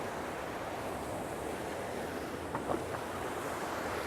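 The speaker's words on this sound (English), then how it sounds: "you can see that same brown liquid just bubbling all over the place" Brown wastewater bubbles and churns in an open membrane basin at the Sunnyside wastewater treatment plant in Lake Stevens, a steady broad hiss of agitated water with a faint splash near the end.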